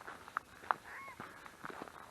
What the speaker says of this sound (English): Oh, I don't even know what bird it is